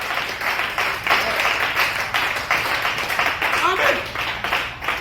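A church congregation bursts into applause to acclaim the Lord, steady dense clapping from a crowd lasting throughout, with voices calling out over it.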